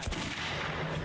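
A single gunshot fired at a bottle in the video game Metro 2033 Redux, a sharp burst at the start that rings out over a dense, rumbling game ambience.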